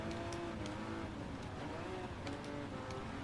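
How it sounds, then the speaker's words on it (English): Ferrari Testarossa in Gran Turismo 7 holding a steady, loud engine drone with faint tyre noise, continuous throughout with no pauses. "Ferrari Testarossa."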